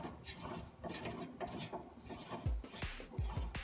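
Ridgid 12-R die head threading a natural gas pipe, producing a quiet, uneven grinding and ratcheting rub with a few louder low clunks near the end, no talking.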